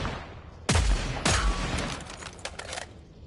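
Gunfire from a gun in the game Killing Floor 3: two loud, sharp shots close together near the start, then a quicker burst of fainter rapid shots trailing off, with no talk.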